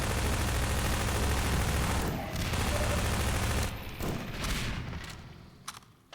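Heavy, dense gunfire fills a Half-Life 2 firefight, a sustained barrage of bullets that gives way after about four seconds to scattered final shots and quieter sounds.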